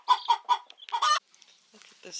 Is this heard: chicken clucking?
yes